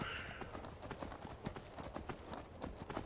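Horse hooves clip-clopping at a steady trot in the video game Skyrim, a continuous rhythmic run of close, fairly loud footfalls.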